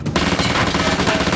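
A KRISS Vector submachine gun fires a rapid, loud full-auto burst of closely spaced shots that rolls on without a break.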